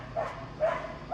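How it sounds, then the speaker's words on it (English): Two or three short barks from a neighbor's dogs, somewhat distant and muffled, spaced apart over a steady low outdoor hum. "Stupid freaking dogs."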